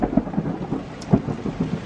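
Thunder booms and rumbles through a steady rainstorm, with several low cracks and rolls rising over the hiss of falling rain, close and fairly loud.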